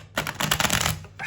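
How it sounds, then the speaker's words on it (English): A deck of tarot cards is shuffled up close, a quick dense burst of riffling card flutter lasting about a second, with no voices. "Let me just shuffle the deck real quick."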